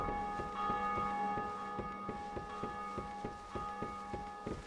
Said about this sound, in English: I'll go in and ring the bell.